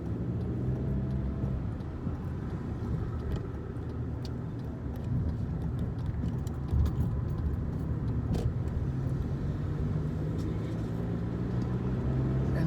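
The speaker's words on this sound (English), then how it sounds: "What a ridiculous sounding vehicle." A loud, odd-sounding vehicle passes along a street in Sarnia, Ontario, its droning, wavering engine noise rising over steady traffic hum for several seconds.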